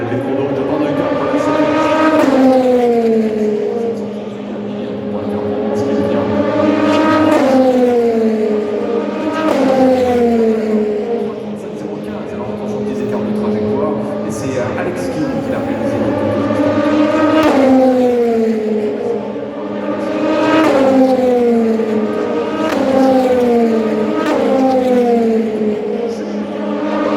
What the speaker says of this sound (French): l'arrivée des deux premières voitures à être parties sur le circuit des 24 heures du Mans